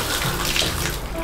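Water runs from a heated shower in a cheap hotel bathroom, a steady close spray hissing evenly without a break over roughly a second.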